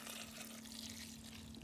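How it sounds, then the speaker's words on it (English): Red wine poured from a container into a cooking dish for a medieval recipe, a faint, steady liquid stream running unbroken over a low background hum. "And into this dish, I'm going to pour some red wine"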